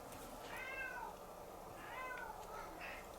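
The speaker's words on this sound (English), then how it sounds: "that's my little kitty there who wants some attention" A pet cat meows twice for attention, close and fairly quiet, two drawn-out rising-and-falling calls about a second apart over faint room noise.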